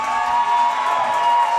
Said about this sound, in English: Some hype from the crowd there. The crowd hyping them up big time.